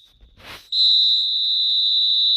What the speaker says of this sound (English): And there is the half-time whistle.